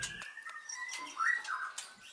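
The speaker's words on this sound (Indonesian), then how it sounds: "Beternak burung murai batu bagian dari pelestarian karena burung ini mulai susah didapat di" White-rumped shama (murai batu) kept by a breeder, singing a short run of clear whistled notes and chirps, close and fairly loud, over faint background noise.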